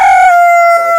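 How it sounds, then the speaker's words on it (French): A hen gives a single loud, drawn-out, tonal call close by, its pitch sliding slightly downward, with no talk around it. "C'est une poule qui est très complète."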